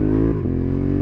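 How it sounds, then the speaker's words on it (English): A Honda CB750 Hornet motorcycle's exhaust rumbles loud and close, with a brief dip and faint crackle as the engine note shifts. "Little cracks from the exhaust now. Just listen to it."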